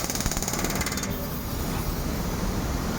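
Metal clanking and rapid mechanical hammering while a construction elevator is dismantled on a building site, loud and close, with a dense rattling burst in the first second giving way to steady grinding, knocking work noise.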